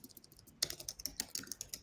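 Fingers type on a keyboard in a quick, uneven run of crisp clicks, quiet at first and then a steady burst of close keystrokes without talk.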